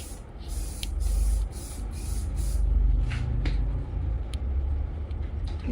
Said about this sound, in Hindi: थोड़ा हार्ड स्प्रे करना है जिससे वो नीचे नहीं आएगा